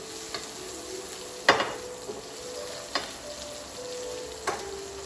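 Onions frying in a pan with garlic and ginger, a soft continuous sizzle near at hand broken by three or four sharp stirring knocks against the pan.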